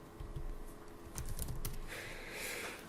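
Keys clatter on a laptop keyboard in steady, quick runs of keystrokes with brief pauses, close and moderately loud, with no talking.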